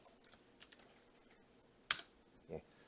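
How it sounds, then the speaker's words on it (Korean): A single key press on a computer keyboard while working in a code editor, a sharp click standing out amid a few faint, scattered lighter taps, quiet and close. "엔터를 누르면"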